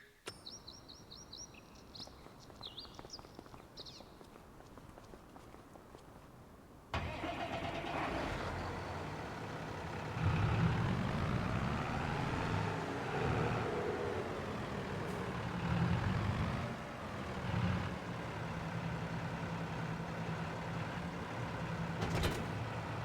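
A tractor engine in Farming Simulator 25 cranks and catches after a quiet stretch with birdsong, then settles into a loud, steady diesel rumble that swells and dips slightly as it runs.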